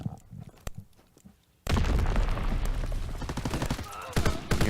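Dense, rapid gunfire from a Call of Duty WWII online tournament match erupts suddenly after a quieter stretch, continuing as a loud, sustained fusillade with overlapping shots and bursts.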